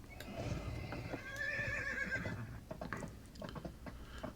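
Horse neighing with a rising whinny, then quick hoofbeats of a galloping horse in the Dungeons and Dragons Online fantasy video game, moderately loud over a busy game soundscape.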